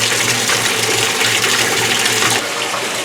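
Water gushing steadily into a 2022 Speed Queen C Series washer drum, a loud, close, continuous rush that eases slightly near the end.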